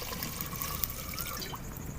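Water is poured steadily into a pot of beef and onions, a close, continuous trickle and splash for two seconds with no talk.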